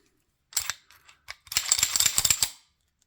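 A Tanfoglio BTA90 compact steel pistol being cleared, with a few separate sharp clicks followed by a dense burst of rapid metallic racking and clacking of the dry action, close and loud with no talking.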